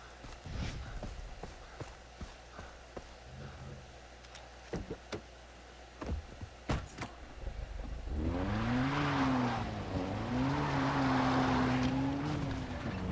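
A vehicle is driven in the video game Far Cry 3: scattered clattering knocks and bumps at first, then a steady engine drone with a wavering, rising and falling pitch that holds to the end, with no talking.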